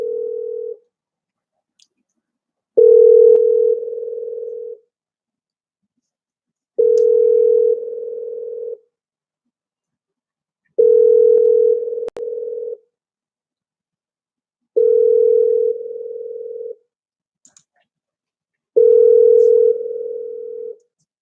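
Outgoing phone call ringing, six evenly spaced two-second ring tones separated by silent gaps, clear and loud over a quiet line with no voices.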